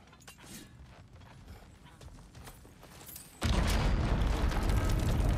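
Earthquake rumble in God of War Ragnarök inside a mine: creaking, clattering mechanical noises give way to a sudden loud, dense roar of shaking that continues steadily to the end.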